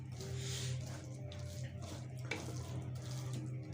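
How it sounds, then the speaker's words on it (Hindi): Water from a glass poured into a pan of keema pyaz (minced meat with onions) being cooked, a steady continuous splashing pour lasting several seconds with no talk. "तो अब जो इसके अंदर मैं शामिल करूँगा 1 गिलास पानी का शामिल करूँगा"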